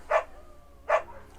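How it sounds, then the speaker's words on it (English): Two short, sharp barks from a dog in the video game Firewatch, spaced under a second apart, close and fairly loud over a quiet background. "Bucket's a good dog"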